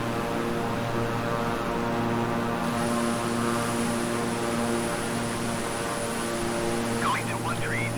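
Twin turboprop engines of a King Air 350i in Microsoft Flight Simulator, a steady, even cockpit drone with layered tonal hum that stays constant throughout.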